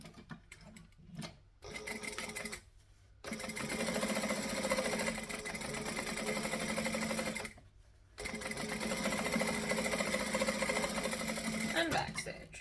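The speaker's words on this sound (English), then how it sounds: "I'm going to top stitch on my 4" A sewing machine top-stitches a travel bag in long steady whirring runs, close and even, broken by short pauses, with a voice speaking faintly at the start.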